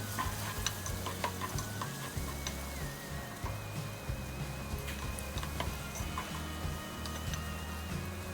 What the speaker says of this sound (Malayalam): ഇനി ഇതിലേക്ക് മുറിച്ച് വെച്ചിരിക്കുന്ന ഉള്ളിയും പച്ചമുളകും ഇടുക. എന്നിട്ട് നല്ലോണം വാട്ടുക.